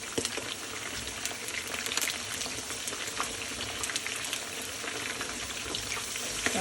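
Kotlovina meat sizzles and crackles steadily in a hot pan right after being turned, with dense, continuous spitting and popping close up and no voices.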